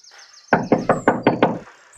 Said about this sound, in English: There's no use in knocking, you know.